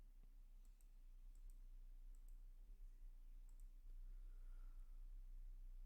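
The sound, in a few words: mouse clicks on Allow button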